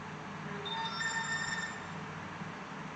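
A soft electronic notification chime with a few thin tonal beeps rising briefly over a faint steady background hum, heard during an online conference with no talking.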